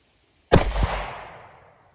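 A single sharp gunshot from a 38 Special snubnose firing Fiocchi 125 grain +P JHP into bare ballistic gel, a loud close crack with a quick echo and a decaying tail.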